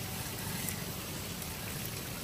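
Fried onions (beresta) going into beef liver cooking in a pan, giving a steady, dense sizzle with an even hiss and crackle throughout and no talk.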